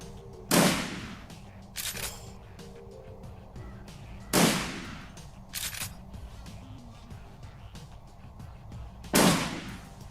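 Gunshots ring out in the Shadowrun Returns video game: three sharp, loud single blasts spaced a few seconds apart, each with a short decaying tail and fainter clicks between them.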